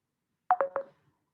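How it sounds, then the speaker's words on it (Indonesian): Incoming-call tones on a telephone sound as three quick beeping pulses in a brief, fairly close burst, surrounded by silence. "Ini ada telepon masuk, ya maaf ya Ibu."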